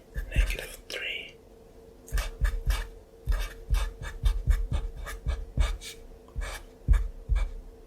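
Sharpie marker squeaking and scratching across paper in short repeated strokes, close and crisp, during a quiet ASMR math lesson; a man whispers briefly at the start.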